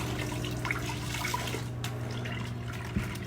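A glaze cloth is rinsed in water with soft, steady splashing and trickling, quiet and close, without talk.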